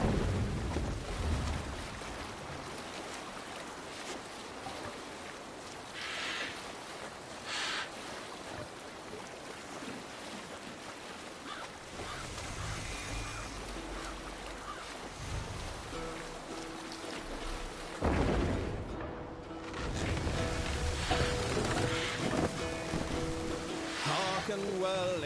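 A Viking longship sails through open water in Assassin's Creed Valhalla, with continuous rushing waves and splashing surf filling the scene, swelling louder toward the end, while voices shout commands over it.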